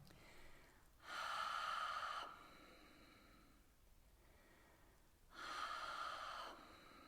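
Ujjayi, the ocean-sounding yoga breath, is made with a constricted throat in two long, close, hissing breaths, each lasting about a second and a half, separated by a quiet pause, with no speech.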